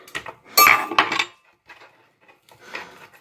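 Chopped chunky onion tipped into a baking dish: a clattering burst of pieces landing against the dish with clinks, then a few softer scattered taps.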